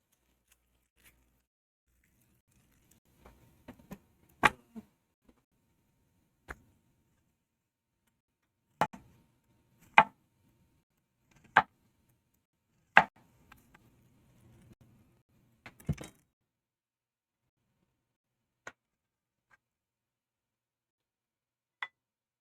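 A knife cutting through an onion on a board, producing sparse, sharp chops and taps at irregular intervals, close and clear against near silence.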